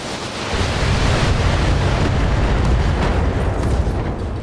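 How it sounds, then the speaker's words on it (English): An ammunition explosion in the Battletech mech combat game booms loudly, then stays as a long, dense roaring rumble of blast and debris that lasts several seconds without fading much. "Alright, ammo explosion."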